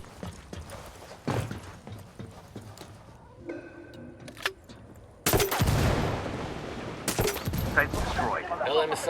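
Bursts of automatic gunfire in Ghost Recon Wildlands, with scattered shots early, then a long, loud sustained volley of rapid fire, broken briefly and resuming near the end.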